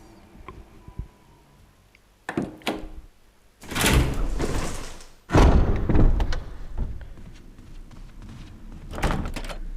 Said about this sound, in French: La porte est verrouillée depuis l'autre côté.